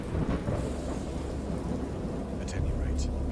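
Low thunder rolls and rumbles through steady rain in a dark, stormy scene from an interactive Lovecraft horror story, with a louder crack of thunder toward the end.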